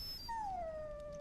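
A war dog in the video game Dragon Age Origins lets out a single drawn-out whimper, a thin falling whine that settles into a steady plaintive tone, heard up close with no talking.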